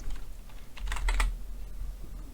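Keys clatter on a computer keyboard in a short burst of close, quick taps, loudest around the middle, with no talking.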